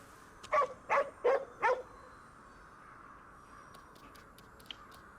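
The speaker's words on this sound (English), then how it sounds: "There's one more dog here." Four quick barks from a dog in the video game Ghostwire Tokyo, evenly spaced and fairly loud, followed by a quiet ambient bed with faint high chirps.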